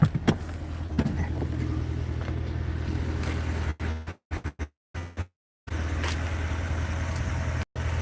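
Steady road rumble and engine drone from inside a moving 2022 Lincoln Navigator, loud and constant, broken by several brief dropouts in the middle, with no talking.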